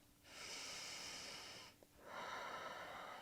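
A deep breath held through a yoga twist: a long, airy inhale, a brief pause, then a second sustained rush of breath, close and soft, with no talking.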